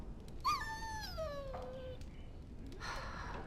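A dog in Dragon Age: Origins lets out one drawn-out, falling whimper, close and plaintive, followed by a faint huff of breath against quiet background ambience.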